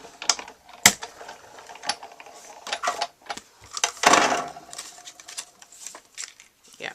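Big Shot die-cutting machine cranking a stitched circle Framelits die through paper: irregular mechanical clicks and ratcheting with a louder grinding push midway, close up, with a speaking voice at times.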